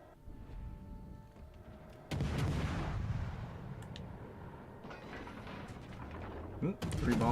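Bombs striking ships in World of Warships: Legends, a sudden heavy blast followed by a rumbling, crackling wash of explosion noise that stays loud for several seconds, with a second sharp impact near the end.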